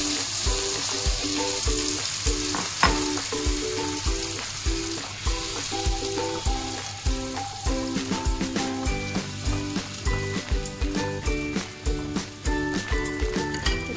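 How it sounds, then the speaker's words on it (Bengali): Marinated koi fish sizzles steadily in hot oil in a pan for a Bengali steamed fish dish, with a continuous close crackle and spitting pops that grow busier toward the end. "এটা একটু এপিট ওপিট ভাজা করে নেব"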